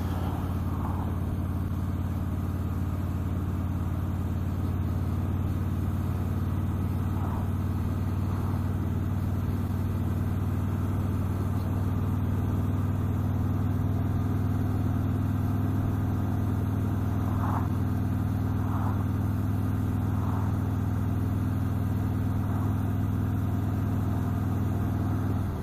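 A Harley-Davidson Ultra Limited motorcycle riding over a broken road, its engine a steady low rumble throughout with faint intermittent rattles from bumps, close and continuous.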